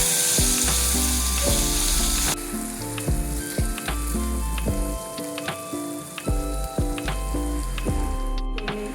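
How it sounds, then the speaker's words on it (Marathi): Ginger, garlic and green chilli paste sautés in hot oil with mustard seeds and cumin, giving a loud sizzle that quiets after a couple of seconds into steady crackling, with spoon scrapes and stirring clicks close by. "आता 1 मोठा चमचा आलं, लसूण, हिरवी मिरचीची पेस्ट घालून घेऊ आणि चांगलं परतवून घेऊ."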